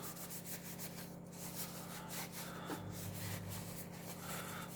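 Oil being rubbed into a hand-carved wooden spoon, giving a soft, continuous rubbing and scuffing sound in a quiet room over a low background hum, close and faint, with no talking.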